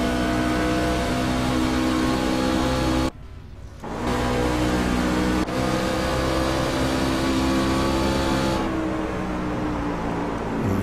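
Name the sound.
race truck engine heard on board during a race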